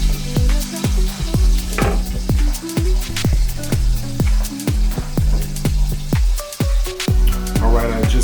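Trout sizzling and frying in a covered pan on a stovetop, with a steady loud crackle broken by repeated sharp pops and spatters that recur every half second or so.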